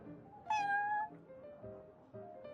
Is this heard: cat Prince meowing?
yes